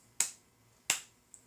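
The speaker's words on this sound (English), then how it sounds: "give them 2 claps." Two sharp hand claps about seven-tenths of a second apart, crisp and close, followed by a couple of fainter ticks, with no talking.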